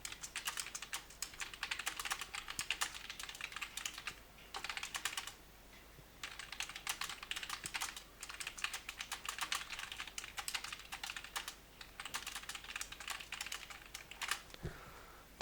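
Someone types on a computer keyboard in bursts of quick, soft key clicks separated by short pauses, quiet and close with no talking.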